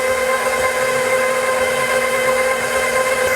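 An electric mixer steadily beating cake batter in a bowl, a loud continuous motor whine with an even drone and no pauses or talking.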